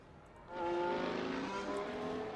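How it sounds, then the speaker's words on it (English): Formula race cars pulling onto the track to start qualifying at the United States Grand Prix East, a steady engine drone that swells after a quiet opening and holds at a moderate distance. "As we watch the beginning of cars moving out of the way for qualifying, Peltier Sharp, first car on track."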